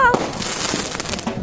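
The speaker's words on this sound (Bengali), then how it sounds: "এখানে হালকা করে বাজি পোড়ানো হয়েছিল।" Firecrackers going off during a Kali Puja celebration, a dense crackling burst of rapid pops, fairly near and loud, lasting the whole short moment.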